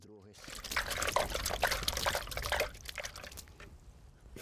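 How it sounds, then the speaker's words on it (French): Water poured over dry concrete formwork to dampen it before the concrete goes in: a close, splashing trickle that swells and then tapers off over a few seconds, with a voice audible underneath. "Avant de verser le béton dans le coffrage, je vais d'abord l'humidifier"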